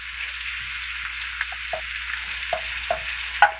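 Bread toasting in butter in a hot pan for a patty melt gives a steady close sizzle and crackle, broken by a few small pops and spits, with no talking over it.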